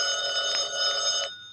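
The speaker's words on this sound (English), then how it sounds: "Answer the phone, Mary." A telephone bell rings in a bright, steady electric trill with two slight pulses, loud and close, stopping abruptly after about a second and a quarter.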